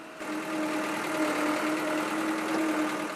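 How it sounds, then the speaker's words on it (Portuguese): A tractor engine grinding along a muddy dirt road, a steady mid-pitched droning rumble with slight wavering in tone, moderately near and continuous without speech. "Só os tratores estão conseguindo passar pelo trecho."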